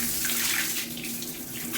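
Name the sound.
water poured into a toilet bowl while cleaning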